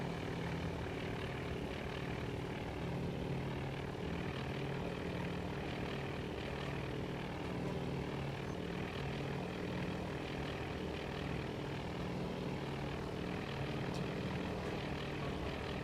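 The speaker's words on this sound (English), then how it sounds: "More bombers coming." Propeller engines of WWII bombers drone continuously in the naval combat game Task Force Admiral, a steady, dense rumble holding at an even level throughout.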